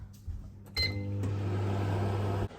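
A microwave oven melting butter hums steadily for a couple of seconds with a faint tonal beep near the start, then cuts off abruptly, recorded close in a quiet kitchen.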